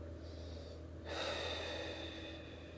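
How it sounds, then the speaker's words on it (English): A quiet, close breath out during a shoulder stretch release, one soft exhalation swelling after a second of faint breathing, with no talking. "breathe as I release"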